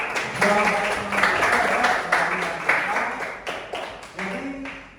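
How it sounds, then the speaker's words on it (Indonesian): Classroom applause breaks out in a mathematics lesson on geometric sequences, a dense steady patter of many hands clapping for about five seconds, with faint voices running under it. "Oke, aplaus dulu untuk jawaban."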